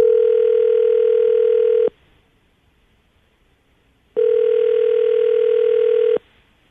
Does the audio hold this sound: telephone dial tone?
yes